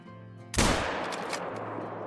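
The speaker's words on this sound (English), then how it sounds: "we have the 243, so I want to try and use that and see if we can't take a super far shot on this thing" A single loud .243 rifle shot in the hunting video game Call of the Wild, a sharp blast followed by a long rolling echo that fades slowly across open terrain.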